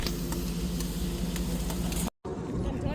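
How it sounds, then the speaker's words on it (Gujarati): A pan of sev and onion curry with turmeric sizzles and fries steadily, a loud continuous hiss with occasional stirring clicks, briefly cutting out near the end. "અમારે ડુંગળી હળદર નાખી દીધી સેવ ડુંગળીનું શાક કરે છે"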